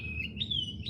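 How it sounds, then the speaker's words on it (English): Birds in foothill country give thin, high chirping calls that rise and waver, close and fairly clear above a low outdoor rumble, with no one talking. "Beautiful bird calls, I know."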